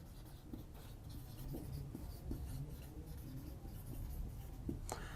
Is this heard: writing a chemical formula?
yes